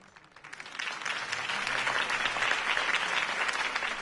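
Crowd applause rises in a Batman video game, swelling from a light patter into sustained clapping from a large audience at a political campaign speech scene, heard at moderate distance.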